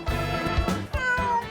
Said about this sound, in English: It seemed to be talking to us, but we didn't speak cat.